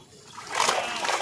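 Water splashing and churning as a hooked fish is landed, a short burst of splashy spray that swells up after a quieter start and stays close.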